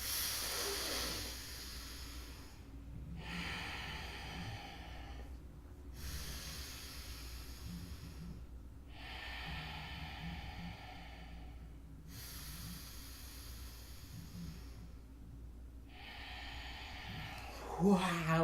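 Slow nasal breathing during a calming breathing exercise: long, soft hissing inhales and exhales through the nose alternate with brief pauses, steady and close, with no one speaking.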